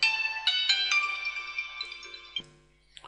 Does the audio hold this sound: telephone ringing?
yes